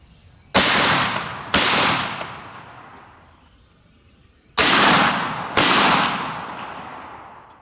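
Two pairs of loud 12 gauge Aguila mini-slug shotgun blasts fired outdoors, each boom followed by a long fading echo, the shots in each pair about a second apart.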